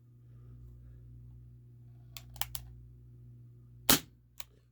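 A Ruger P345 CO2 airsoft pistol fires one sharp, fairly quiet pop after a few faint clicks, with a low steady hum behind it.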